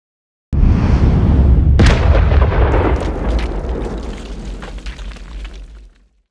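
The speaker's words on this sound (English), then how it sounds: "Did you hear all the debris falling in the background?" A deep, loud explosion sound effect bursts in suddenly, then a second sharp crack, followed by a long rumbling tail of falling, clattering debris that gradually fades out.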